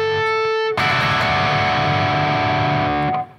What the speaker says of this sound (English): We go to the 4th string 7th fret harmonic.